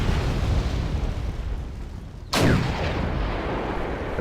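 Tank shells exploding in the Wargame: European Escalation strategy game, a sudden loud blast at about the midpoint with a rumbling tail. Steady battlefield noise runs before and after, and no one speaks.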